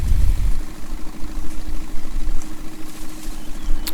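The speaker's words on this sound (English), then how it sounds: "having to drag you guys and girls across the map in a tractor that does 30 miles an hour" A slow tractor's engine in Farming Simulator 19 idles and drones along at a low, steady rumble, with a heavier burst at the start and faint clicks higher up, no voices.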